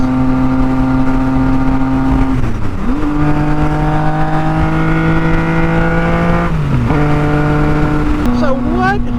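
A tuned 2017 Yamaha FZ-09/MT-09 three-cylinder motorcycle drones loudly at steady cruising revs, dipping for gear changes and climbing again, with a rider talking over the engine.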